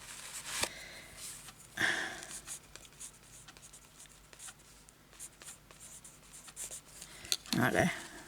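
A pen scratches across a handmade tag in short bursts, quiet and close, with soft rustling and handling noises between strokes.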